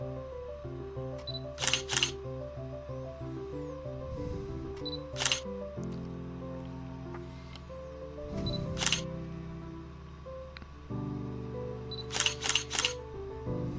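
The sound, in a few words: camera shutter on a slow shutter-speed setting, tripod shot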